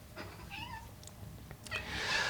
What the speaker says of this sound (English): There's my cat to confirm this.